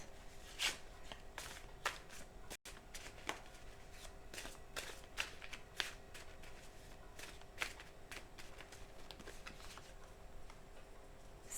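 Playing cards being shuffled and one drawn from a deck: faint, scattered soft ticks and light flicks at an irregular pace, quiet and close in a still room.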